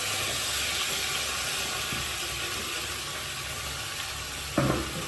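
Chopped onion, tomato and dried chillies sizzle in a hot pan with a steady, broad hiss that fills the whole stretch. A brief clatter comes near the end, and nobody speaks.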